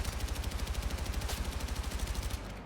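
Full-auto assault rifle fire in Battlefield 6, a loud, unbroken rapid burst of evenly spaced shots lasting a couple of seconds before cutting off.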